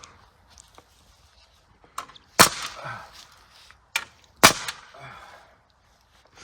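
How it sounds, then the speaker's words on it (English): Nail guns fire into pieces of wood while a predator-proof chicken coop is built, sharp loud cracks in two clusters with fainter taps between, each shot echoing briefly in an otherwise quiet setting. "the primitive creatures use nail guns to put pieces of wood together in the jungle"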